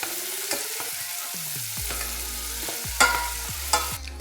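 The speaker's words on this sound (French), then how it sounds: "Une fois que ce beurre est fondu, on va ajouter les échalotes. Et on va légèrement les faire suer." Shallots are added to melted butter in a pan and gently sweated for a pasta risotto, with a soft steady sizzle, a few stirring scrapes and light clinks of a utensil against the pan.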